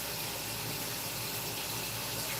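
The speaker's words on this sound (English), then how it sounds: "just give them a rinse off, hot water" Hot tap water runs in a steady, close hiss over pepper tops being rinsed in a kitchen sink, continuous and unbroken.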